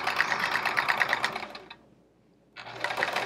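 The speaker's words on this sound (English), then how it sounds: "it's pretty cool that you can still free motion quilt on an old machine like this" An old sewing machine free-motion quilting runs in a rapid, steady chatter of needle strokes. It stops for about a second, then starts up again at the same close, loud pace.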